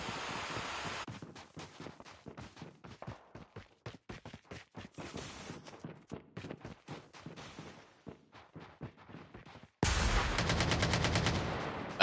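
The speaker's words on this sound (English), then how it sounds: "She's trying to shoot through the wall to get a wall bang." Rapid bursts of automatic gunfire in a Call of Duty: Mobile women's esports match, dense overlapping shots firing through a wall, ending in a sustained loud stretch of continuous fire.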